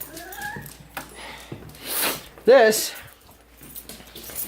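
A small female dog whimpers and yips while stuck on a bed, a rising high whine near the start and a sharp cry in the middle, with a person talking nearby.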